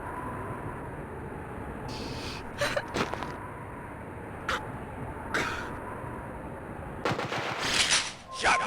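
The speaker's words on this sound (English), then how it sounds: "Shotgun!" Shotgun blasts in the video game Juggernaut, a handful of sharp separate reports spaced irregularly over steady game background noise, with a denser burst of fire near the end.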